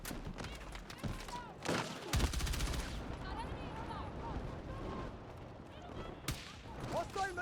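Machine gun fire in the shooter game Battlefield 6 rattles in bursts with scattered shots and impacts, heard fairly faint and busy under a player's voice calling out.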